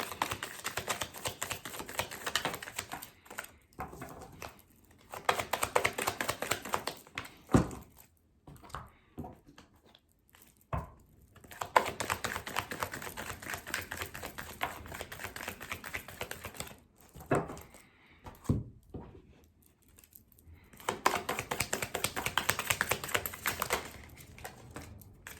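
Tarot and oracle cards shuffled in bursts of rapid papery riffling and tapping, close and clear, broken by short quiet pauses, with no speech over them.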